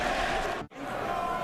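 A Prudential Arena crowd stands and cheers after a boxing fight, a dense, loud roar that drops out abruptly for an instant before resuming at full strength.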